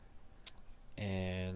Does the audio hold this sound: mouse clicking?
yes